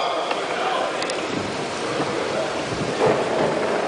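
Steady heavy rain with rolling thunder outside a meeting hall, a dense continuous wash of noise with a deeper rumble swelling near the end.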